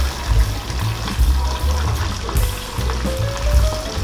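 Coated chicken pieces fry in hot oil with a steady, dense crackling sizzle and bubbling that continues throughout at moderate volume, with no talking.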